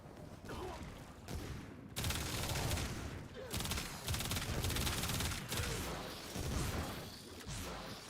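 Rapid gunfire from a weapon in the sci-fi shooter game Warframe, dense bursts of shots and beam-like whooshes crowding together in a loud, continuous barrage with short pauses between volleys.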